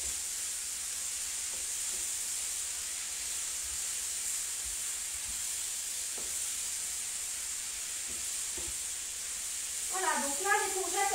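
Courgettes cook in a pan with a steady, soft sizzling hiss throughout, fairly faint and even, while a voice talks briefly near the end.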